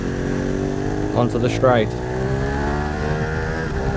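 Ducati 916 motorcycle engine heard on-board at the Isle of Man TT in 1995, a loud steady high-revving drone filling the whole clip, with a rider's voice talking briefly over it.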